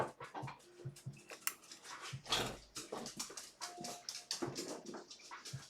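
Household dogs whimpering and yipping softly in short bursts while being moved toward their cage, with clattering and handling noises throughout.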